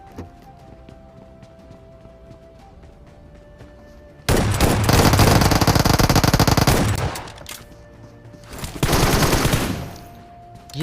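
Shotgun fire in the mobile battle royale BGMI, a loud burst of rapid gunfire lasting about three seconds, then a short pause and a second shorter burst, close and harsh over quieter game ambience, no talk.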